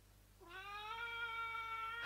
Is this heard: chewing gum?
no